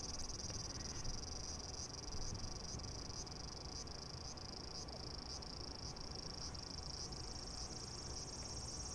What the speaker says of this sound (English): The cicadas are singing loudly, which is normal for this time of year.